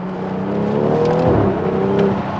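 A car with a B58 engine revs steadily nearby, a loud sustained engine tone that rises and falls slightly, with no talking over it.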